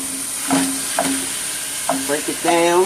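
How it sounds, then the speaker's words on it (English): Ground beef sizzling in a pot for chili, a steady hiss of frying with a few scraping stirs and clinks, close and fairly loud, with a bright whine running throughout. "now I'm just going to go ahead and add my ground beef to the pot as well"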